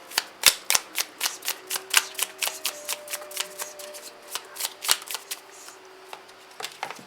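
Tarot cards are shuffled in a rapid run of crisp riffling clicks, close and fairly loud, thinning out toward the end.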